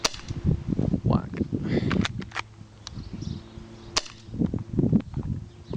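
A Tokyo Marui Desert Eagle airsoft pistol fires a few sharp, isolated snapping cracks spaced seconds apart, close and loud, with people talking between the shots.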